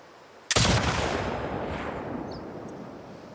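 A single loud, booming gunshot from The Last of Us Part II erupts sharply and rolls into a long reverberant tail that fades slowly over several seconds, with no talking.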